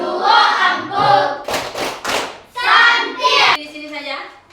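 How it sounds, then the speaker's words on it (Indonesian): A group doing the tepuk santiang cheer, with bursts of rhythmic clapping in unison between chanted call-and-response speech. "Kita kasih tepuk santiang."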